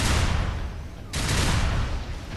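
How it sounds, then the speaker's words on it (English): Alternate fire of the starting weapon in the video game Unreal Tournament: a loud, dense, continuous burst of rapid gunfire with a booming low end, dipping briefly before surging again at full strength. "So there's the alternate fire for your main weapon here, the weapon that you start with"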